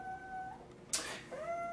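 A small rescued cat crying indoors, giving one short, clear, rising meow over a faint steady tonal background hum.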